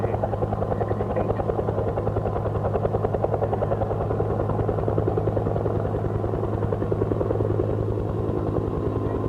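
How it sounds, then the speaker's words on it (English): A German Air Force UH-1D helicopter at an air display, its rotor beating in a steady, fast chop with a droning engine whine, loud and continuous throughout with no talk. "German Air Force UH-1D stayed in service with the German Air Force in 1968."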